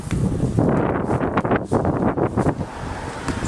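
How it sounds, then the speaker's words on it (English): Breeze blowing across a front yard garden, a steady rush of wind buffeting the microphone with gusty swells throughout, no voices. "It's a nice breezy day."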